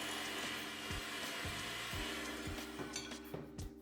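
Electric mixer running steadily on low speed through cake batter for a chocolate tres leches cake, a continuous close motor whir with faint rhythmic knocks as the beaters turn.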